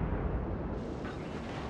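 Heavy naval gun salvos in World of Warships, with ships firing on cruisers and a beachhead, rendered as a dense, continuous rumbling roar of blasts with no clear gaps.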